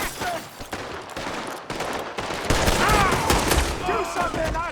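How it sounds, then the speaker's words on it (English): A chaotic gunfight in Red Dead Redemption 2, with rapid volleys of gunshots ringing out loud and close, mixed with shouting voices and scattered impacts throughout. "Shoot this bastard!"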